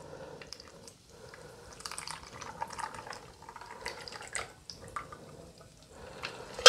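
A Cosmopolitan cocktail poured into a glass over ice at a bar, a soft, intermittent trickle and splash close by, quiet overall, ending with a sharper clink.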